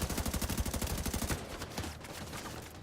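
Automatic gunfire in the shooter The Division 2, a rapid, evenly spaced burst of shots that stops after about a second and a half and leaves scattered quieter pops and background noise.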